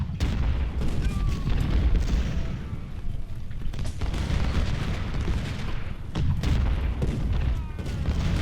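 Gunfire and artillery in the Ultimate General: Civil War video game during a supply raid roll on without pause, dense booming volleys and musket crackle sustained and loud throughout, with some faint speech mixed in.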